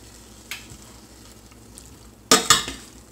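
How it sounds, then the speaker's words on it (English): Ground deer meat browns in a pan on the stove, giving a low sizzling hiss with a few sharp scraping stirs and clanks near the end. "on the stove our ground deer is browning"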